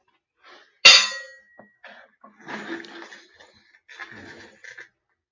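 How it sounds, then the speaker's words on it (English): A hand-forged metal wind chime gives one sharp clang that rings out briefly, followed by quieter scattered clinks and rustling nearby. "Yeah, wind chime."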